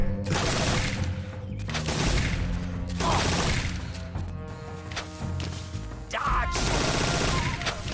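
Bursts of gunfire from the video game Metal Gear Solid 3: Snake Eater come in loud rattling clusters with short gaps between them, set over a steady game soundtrack.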